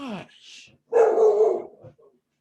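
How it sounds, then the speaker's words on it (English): A guard dog at home lets out a short yip and then one loud, stretched bark-howl. Brief vocal noises surround it, and the sound is close and clear against otherwise quiet surroundings. "He's the worst guard dog because he barks like that until they get in the house"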